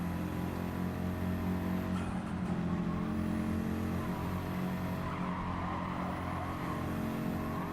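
Racing car in Gran Turismo 7 pivoting through a corner at full throttle, a steady engine roar with rising whine and tire squeal, continuous and up close with no talking.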